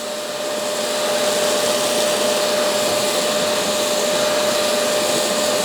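A BISSELL HydroSteam Pet carpet cleaner, model 3432, runs in dry vacuum mode with a loud, steady motor whine and a constant rushing of suction air close by.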